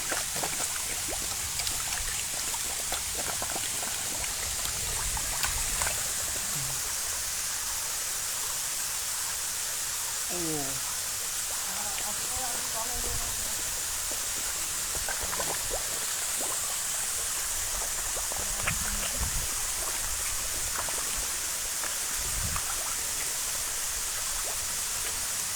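A waterfall pours steadily in a scenic hill-country spot beside a colourful fish area, a continuous broadband rush of falling water with occasional faint birdlike chirps and brief distant sounds over it.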